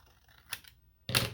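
Scissors snipping the corners off paper scraps, two quick close cuts about half a second apart, the second louder, in a quiet room.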